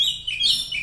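Oriental magpie-robin (kacer), a black-and-white songbird, chirping in a continuous run of bright, high-pitched whistled notes, close and fairly loud, with no talking.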